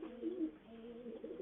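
A pigeon cooing close by, soft low throaty coos in a short rolling series with a brief pause, faint and alone.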